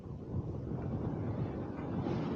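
Strong wind buffets the microphone on Namhangjin beach in Gangneung, a steady low roar filling the whole moment with no one speaking.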